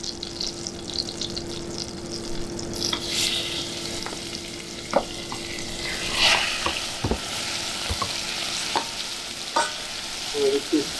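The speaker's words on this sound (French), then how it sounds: "On va laisser bien saisir la viande" Venison pieces sear in nutty browned butter in a hot pan, a continuous crackling sizzle with occasional sharp pops and clinks of utensils, fairly close and steady throughout.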